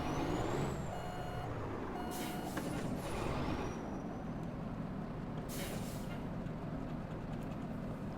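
A truck towing a trailer in a driving video game backs up with a steady engine drone and hiss, an air-brake release bursting out loudly twice, with no talk.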